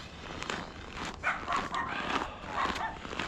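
Several dogs at a dog park bark and yip in short, overlapping bursts at moderate distance, with faint voices mixed in among the barks.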